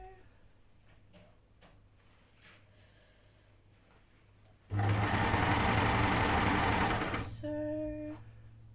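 A cover stitch sewing machine runs fast and loud for about two and a half seconds while stitching a hem, then slows briefly before stopping; quiet handling noises come before it.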